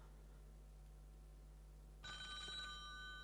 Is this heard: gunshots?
no